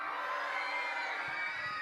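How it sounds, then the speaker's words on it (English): A class of fourth graders performs a scream of terror onstage, a dense, sustained wall of overlapping high voices shrieking together at full volume. "this last one, and it's one of my favorites, the scream of terror"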